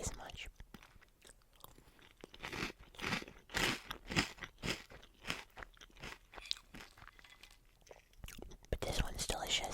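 Crunchy monster marshmallow cereal with blueberry flavor is chewed close to the mic in quiet ASMR style, producing repeated crisp crunches in bursts, with soft whispering between bites.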